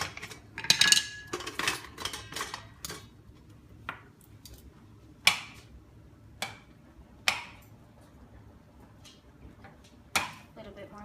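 Metal tongs clack against a pan while shrimp are flipped, giving a cluster of quick, close clinks and scrapes followed by sparser single taps spaced a second or so apart, with a faint sizzle underneath.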